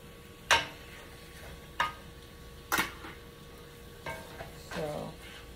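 Wing, thigh, breast and leg pieces of chicken cook in a pot for New Orleans-style curry chicken, giving a soft steady sizzle broken by several sharp utensil clicks and scrapes.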